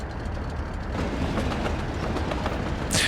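Long train rolling through the Soviet-era city-building game Workers & Resources: Soviet Republic, a steady rumbling clatter of rail cars that stays even and continuous throughout, with a sharp hiss near the end.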